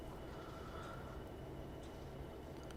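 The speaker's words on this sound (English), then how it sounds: "There goes the whole train around the curve." A simulated freight train rolls around a curve on Cajon Pass in Train Simulator 2020, a steady low rumble of wheels and locomotives heard faintly and continuously throughout.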